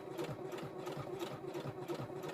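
A domestic sewing machine stitches through the layers of a fabric bag, a close, steady mechanical whir with a rapid rhythmic needle chatter running throughout.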